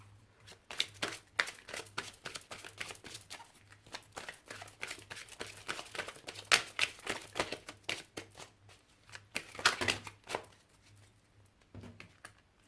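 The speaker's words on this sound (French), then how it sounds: "j'entendais 3 cartes et elles sont tombées" Tarot cards are shuffled by hand for several seconds, a dense run of quick riffling snaps and papery slaps, close and fairly soft, with a few cards dropping near the end.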